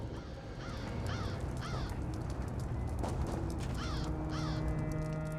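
Crow cawing in Elder Scrolls Online, Clockwork City: a series of harsh caws repeating at a steady pace over a constant ambient hum, with no talking.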